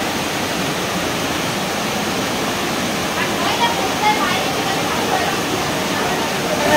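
Water rushing in a stream over stones at the Panchalingeshwar shrine near Balasore, a dense, constant roar of flowing water heard up close, steady and loud from start to finish.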